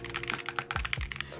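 Quick bursts of keystrokes on a Chaosera Cupid 65 mechanical keyboard with flex-cut PCB, crisp close clacks in an uneven rhythm, with a couple of deeper thocking strikes standing out among the lighter presses.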